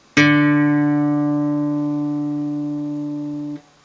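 A single plucked guitar D string, the fourth string, sounded as a tuning note, ringing clear and steady on its own for about three seconds before being damped.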